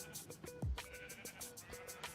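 Minecraft sheep bleat in a short, nasal cry over a steady stream of repeated game sounds, with faint melodic tones running through.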